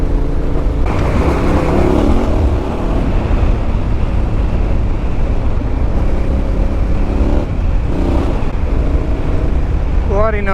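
A Yamaha Tenere 700 motorcycle engine while riding, a loud continuous drone with heavy wind buffeting, steady throughout, with brief shifts in pitch and a voice talking under the noise.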